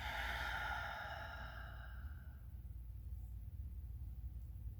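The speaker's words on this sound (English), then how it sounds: "Exhale, let it out." A long, deep exhale during breath meditation, a breathy rushing sigh loud at first that fades out over about two seconds, followed by near silence.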